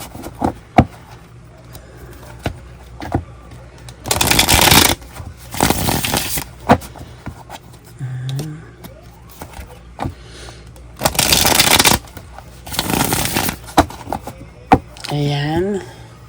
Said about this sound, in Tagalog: Balasahin muna po natin.